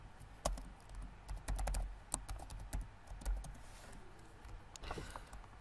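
Irregular clicking of keys on a computer keyboard, with bursts of quick keystrokes and isolated presses alongside a faint low background hum. No voices.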